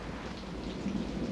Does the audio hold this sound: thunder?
yes